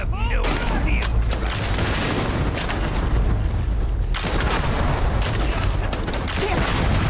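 Sustained gunfire and heavy booming explosions from combat in the sci-fi video game Starfield, loud and dense throughout, with a brief lull near the middle before the barrage resumes.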